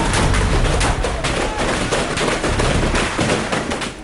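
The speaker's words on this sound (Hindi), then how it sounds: "इन गोलियों की तड़तड़ाहट" Dense, continuous gunfire rattles in rapid overlapping bursts during a security forces' encounter with Lashkar militant commander Abu Dujana, loud and close with no pauses.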